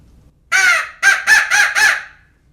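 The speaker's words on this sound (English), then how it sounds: "The one that I tend to lean on the most is probably the crow call." A handheld power crow call blown as a locator call gives four sharp, raspy caws. A longer drawn note comes first, then three quicker ones in an even rhythm. The calls are loud and close, with no other sound around them.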